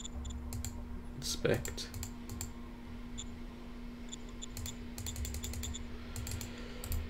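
Mouse clicks sound during a game of Shadow Empire: sharp, quick clicks in small clusters and single taps over a low steady hum, with a brief spoken word partway through.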